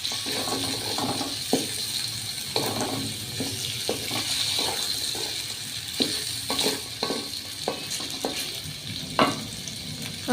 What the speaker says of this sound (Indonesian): Sosis kita masukkan juga, kita aduk-aduk kembali.